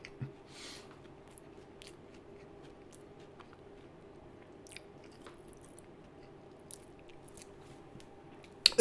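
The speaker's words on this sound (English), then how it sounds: "And eating sausage rolls." Someone eats sausage rolls close to the mic, with quiet, scattered bites and soft squishy chewing over a faint hum, plus a couple of louder clicks at the end.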